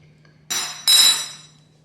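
A metal spoon strikes a dish twice in quick succession while a post-workout meal is prepared in a home kitchen, each bright, ringing clink close and fairly loud over a faint steady hum.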